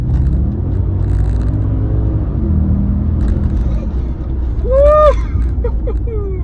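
A 2003 Audi RS6 sedan engine rumbles low and steady up close, with a brief swell near the end as a voice speaks over it.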